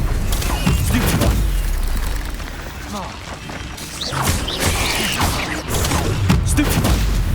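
Spell casting in Hogwarts Legacy, Confringo, Incendio and Stupefy fired in quick succession, with a steady run of whooshes, crackling blasts and thuddy impacts under near-continuous game noise and voice.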